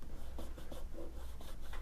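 Pencil shading rubbed and smudged across drawing paper in a Cubism-style sketch, a soft continuous scratchy rustle with gentle strokes repeating every fraction of a second, close and quiet.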